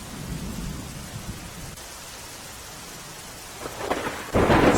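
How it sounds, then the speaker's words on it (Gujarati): Heavy rain pours down over Rajkot city while thunder rumbles low, steady rainfall hissing throughout and a loud burst of rain noise swelling at the end, with no voices. "હજુ પણ વરસાદ છે તે ચાલુ છે"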